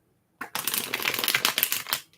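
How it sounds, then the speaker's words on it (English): Tarot cards shuffled by hand up close, a crisp, fluttering riffle of rapid papery flicks lasting about two seconds after brief silence, soft and intimate with no talking. "I'm going to shuffle the cards for you"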